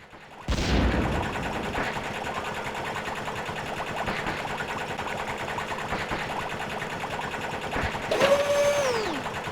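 Rapid video-game gunfire from the Star Trek: 25th Anniversary PC game rattles in a fast, even burst that runs on, loud and mechanical, with a whining electronic sweep near the end.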